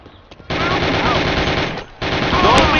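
Sustained automatic gunfire in a Mafia: The City of Lost Heaven shootout, a loud rapid rattle of shots that breaks off briefly and then resumes.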